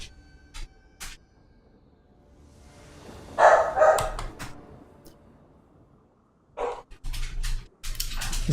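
A dog barking indoors, a few separate sharp barks spread out with quiet gaps, moderately near.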